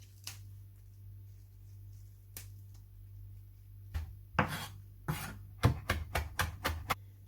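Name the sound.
chopping fresh mint leaves with a knife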